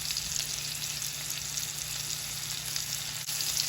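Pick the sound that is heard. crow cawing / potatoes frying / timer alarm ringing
potatoes frying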